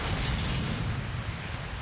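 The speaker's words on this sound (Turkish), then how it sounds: "İngiliz ve Amerikan askerleri Casablanca ve Oran kıyısındaki Vichy askerlerinin top atışlarıyla karşılandı" Artillery cannon fire from Vichy coastal guns at Casablanca and Oran in a wartime setting, a dense, continuous roar of distant booms and rumbling blasts with no speech.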